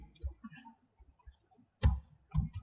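Computer mouse clicks while drafting a house plan in CAD software: a few sharp, close clicks in short bursts, mixed in with quiet talking.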